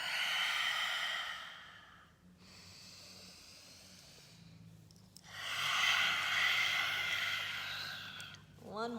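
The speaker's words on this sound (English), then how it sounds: "Couple cleansing breaths in through the nose and out through the mouth" Two slow, deliberate cleansing breaths, each drawn in through the nose and released out through the mouth, heard close and breathy with soft airy hiss and a brief pause between them, no talking.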